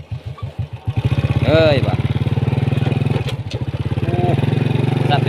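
A motorcycle engine revs and labors loudly while riding up a mountain toward the peak, a steady pulsing rumble close by with a brief shout over it.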